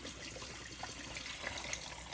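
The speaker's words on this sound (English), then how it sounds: "we got a little water cooler, and they said we got to dump this like for about 5 times" Water is dumped out of a small water cooler, pouring in a steady broad splash and rush at moderate distance, without any voices.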